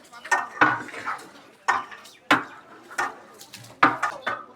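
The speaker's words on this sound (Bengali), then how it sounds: "মশলা আর মাংসের সাথে মিক্স করতেছি" Meat mixed with spices by hand in a large pot for a traditional feast gives off a series of wet slaps and clattering knocks, loud and irregular, with brief pauses between the strokes.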